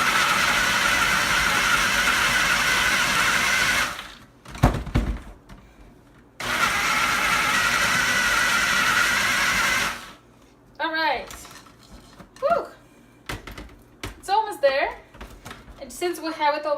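A food processor whirs steadily and loudly while blending chocolate pecan truffle mixture, running in two long continuous bursts separated by a brief pause, with a person talking near the end.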